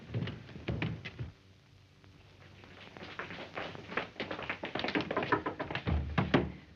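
Repeated knocking and tapping on a locked bedroom door in an old 1933 film, with bursts of rapping that start, pause, then return more insistently and louder, the sound slightly muffled and thin.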